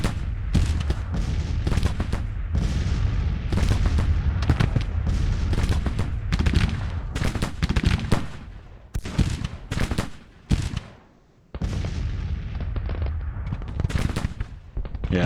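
Dense musket volleys and artillery fire in the Civil War strategy game Grand Tactician, crackling and booming almost continuously, with a short lull before the shooting resumes, and no talk over it.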